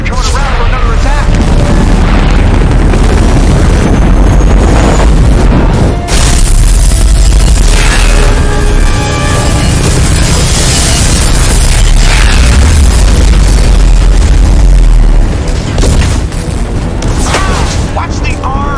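Explosions tear through the Normandy starship during an attack in Mass Effect 2, loud continuous booms and rumbling blasts with crackling debris, while voices call out amid the chaos.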